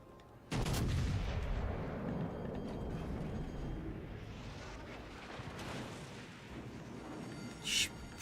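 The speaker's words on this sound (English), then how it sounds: "Why did they land so short?" Warship gun salvo in World of Warships: Legends: a sudden loud boom, then a long rolling rumble as shells land and explode, fading over several seconds, with a sharp burst near the end.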